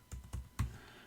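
A few keys tapped on a computer keyboard while coding in VS Code, four separate close, soft thuds spaced irregularly, no voices.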